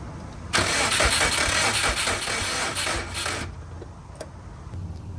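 A 2004 Subaru Forester XT engine cranks over steadily for about three seconds without catching, the starter whirring loud and close before cutting off, leaving quiet shop ambience behind.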